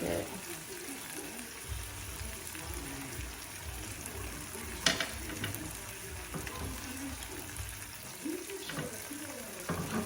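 Cheese shells frying in hot grease, a steady close sizzle with crackling pops and occasional louder spits rising above it.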